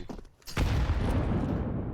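A high-explosive grenade detonates in a Counter-Strike match, a sudden broadband boom after a brief quieter moment, followed by a sustained loud rumbling wash that holds steady to the end.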